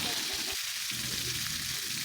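Red chilies, a mix of bird's eye and red chilies, sizzle with tomatoes in a frying pan, a steady close crackle and hiss throughout, with a faint stir partway through.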